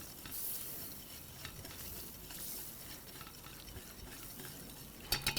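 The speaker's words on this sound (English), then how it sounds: "you need to do this nice and slow until the butter's like foaming and beautiful" Butter melting and foaming in a pan over a gas burner makes a steady, soft sizzling hiss with light crackle throughout, and a few sharper clinks near the end.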